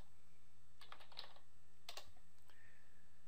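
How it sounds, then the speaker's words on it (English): Quiet keystrokes on a computer keyboard in two short bursts with a pause between, typing a short word into a search box, close and alone. "So I'll type in panda."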